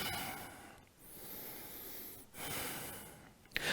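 Slow, deep breathing during a Vinyasa yoga flow, two long airy breaths drawn in and released through the nose, close and soft, ending with a brief sharper sniff.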